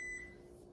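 A kitchen stove's electronic beeper sounds a single steady high tone at the start, fading into quiet room hum with no talking.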